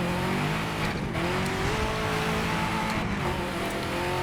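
Race car engine in a racing video game driven with manual shifting, a steady loud roar with rising revs and shifts, tire squeal mixed in, alone without talk.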